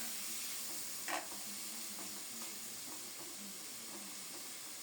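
Food is stirred in a cooking pan with a little water, a soft continuous simmering hiss beneath faint scraping and a brief clatter early on, heard close and alone.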